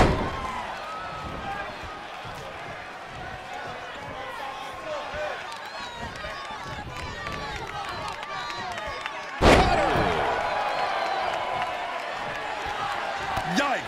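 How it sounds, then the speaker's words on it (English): A wrestler's foot stomps down on an opponent in WWE 2K20, landing as one sharp, heavy thud partway through over constant crowd noise and a talking voice. "Oh, foot just stomping down. Again!"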